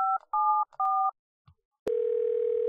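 Phone number 1574 being dialed in the point-and-click game Thimbleweed Park: three clean beeping tone pairs spaced apart, a soft click, then a steady dial tone that holds to the end.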